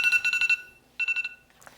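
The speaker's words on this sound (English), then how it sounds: "timer's about to go off" A timer alarm going off indoors with loud, shrill electronic beeps, a rapid burst of about five, a short gap, then a second burst of four, with a faint rustle at the end.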